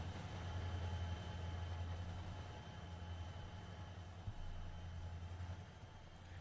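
Locomotive rounding Horseshoe Curve in Trainz Simulator 2, a steady low diesel rumble with continuous rail rolling noise and a faint high whine, held at even loudness throughout with no talking.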